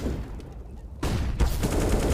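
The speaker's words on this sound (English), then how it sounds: "and here's the shots." Gunfire in Counter-Strike: Global Offensive during a pro match, a brief quiet followed by loud rapid bursts of rifle shots in quick succession.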